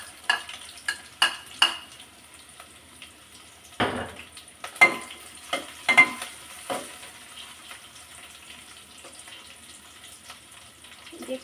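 Chopped green chili and onion fry in a pan under a soft, steady sizzle, with scattered clatters of a spatula stirring and scraping, loudest early and thinning out toward the end.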